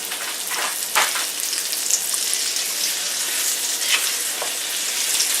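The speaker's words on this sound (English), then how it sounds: "Add these pork chops. I just want to brown them." Pork chops brown in a hot frying pan on a stove with a loud, continuous sizzle and crackle, close up, with occasional small pops and clinks and no talking.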